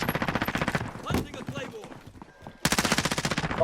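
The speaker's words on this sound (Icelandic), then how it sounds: "Það er að skjóta úti." Bursts of rapid gunfire crackle in a video game, heard as dense repeated shots before and after a brief lull, with players talking over it.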